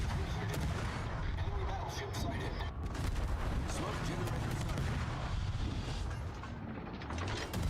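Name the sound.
incoming missile and gunfire, from a video game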